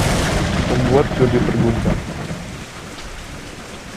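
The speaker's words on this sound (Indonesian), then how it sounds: "tiba-tiba petir yang besar menyambar membuat Jody terkejut" A heavy thunder rumble rolls under steady rain on a surface while a narrator speaks over it, then fades to a continuous rain wash.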